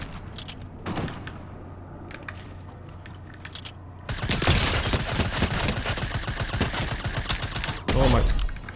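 Chrome shotgun blasts in Fortnite, sharp loud bangs at scattered intervals with a dense burst of firing and clatter in the second half.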